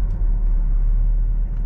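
A car drives along a road with a steady, close low engine and tire rumble, carried evenly throughout with no talking.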